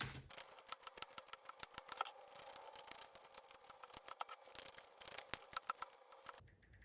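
Tarot cards are shuffled and drawn by hand close up, producing quick soft rustles, slaps and clicks in an irregular stream, faint and quiet without voices.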